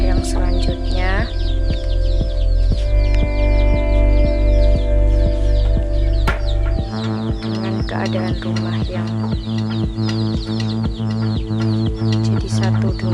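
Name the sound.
chickens clucking in a coop attached to a house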